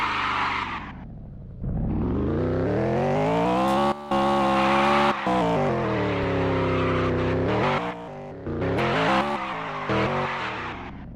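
A BMW driven fast and sliding sideways: loud, close engine revs climb and fall through the gears with tire squeal as it skids, dropping out briefly between surges.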